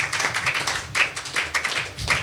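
Church congregation clapping to acclaim the Lord at the close of a worship service, a dense round of many hands applauding with uneven bursts, lively and close.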